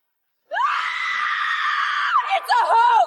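A woman lets out a loud, sustained scream that breaks into shorter wavering cries near the end, heard up close and alone after a moment of silence.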